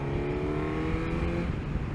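Engine of a 2022 Suzuki GSX S1000GT motorcycle running steadily with a loud, continuous drone and layered harmonic tones, close and alone without speech.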